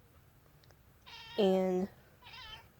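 A pet cat watching a bird lets out a close, drawn-out meow, followed by a second, softer meow in a quiet room.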